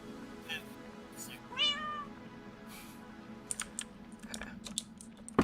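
A cat meows once in Minecraft, a short clear pitched mew amid quiet game ambience, followed by a patter of keyboard typing.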